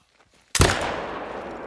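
A single loud rifle shot fired at a caribou in the hunting game theHunter: Call of the Wild, a sharp crack followed by a long rolling echo that fades slowly, with no talking.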